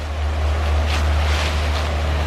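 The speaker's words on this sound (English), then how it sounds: "oh my gosh, this creek down here, absolutely divine" Creek water along the Creeper Trail near Abingdon, Virginia rushes steadily in a broad, continuous wash with strong low wind rumble on the microphone.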